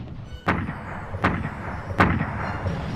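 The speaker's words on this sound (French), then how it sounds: "Ils vont être la cible d'un bombardement précis de l'artillerie de Bradley." Three heavy artillery booms from a World War II Ardennes bombardment land at even intervals, each a sharp thump with a rumbling tail over a continuous low battlefield drone.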